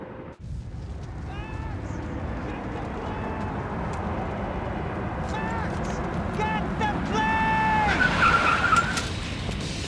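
Car in the Max Payne 3 video game, a roaring engine with repeated tire skids and squeals that grow louder and more frantic toward the end, close and intense, under shouted dialogue.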